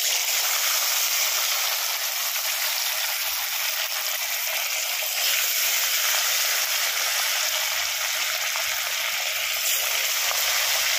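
Fish fries in hot oil in a village kitchen, a loud, dense, continuous hiss and sizzle held steady and close for the whole stretch.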